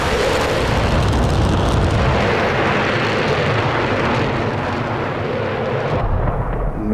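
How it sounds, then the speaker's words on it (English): An F-16 jet goes down and its pilot ejects in the DCS World flight game, giving a steady, loud roaring rush of engine and wind noise that holds throughout and then thins slightly near the end. "And we're going to eject from there."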